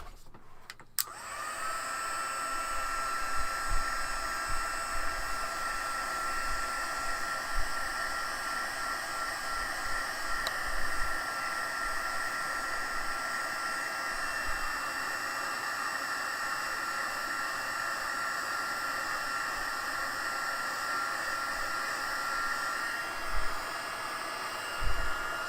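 A hair dryer blows shimmer ink spray dry on a craft project, with a steady, loud whoosh that holds for about 25 seconds and no talking.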